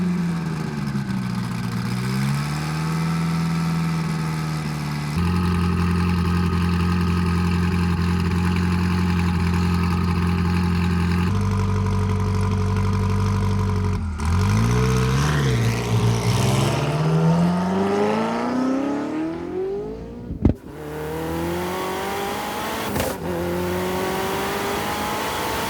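An SSC Tuatara hypercar engine idles steadily, then revs and accelerates through rising and falling pitch sweeps, loud and close, with a sharp burst near the end before the engine drone continues.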